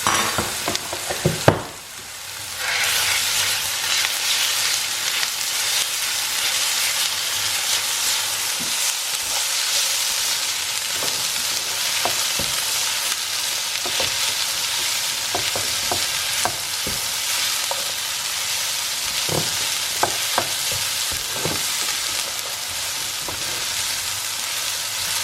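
Garlic and ginger paste fries in a pan, a loud continuous sizzle that runs the whole time, broken by occasional stirring clicks and scrapes.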